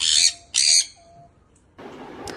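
Sun conures in an aviary give loud, harsh screeching calls, two close bursts followed by a longer raspy stretch with a sharp squawk at the end.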